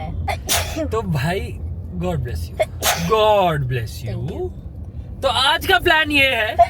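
A person sneezes amid conversational talk, with brief sharp bursts standing out between voices.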